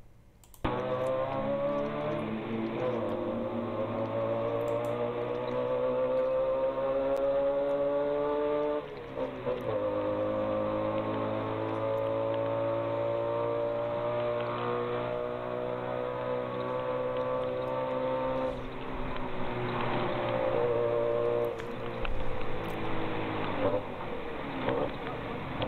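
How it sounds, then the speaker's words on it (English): A tuk-tuk carries passengers through Khon Kaen, Thailand at night, its small engine droning steadily throughout with a few brief shifts in pitch, close and fairly loud, with no talk over it. "What I want to show you now is a tuk-tuk ride at night in Khon Kaen area of Thailand"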